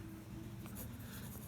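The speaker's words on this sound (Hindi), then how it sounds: "यहाँ लिखेंगे" Pen scratching on paper while an equation is written by hand, a soft continuous scraping with a few brisk strokes, close and quiet over a low background hum.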